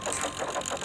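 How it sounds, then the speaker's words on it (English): Steam train engine pistons pumping in a rhythmic, steady chug of evenly spaced beats, loud and close for a brief moment with no voices. "Suddenly, they heard the loud sound of pistons pumping."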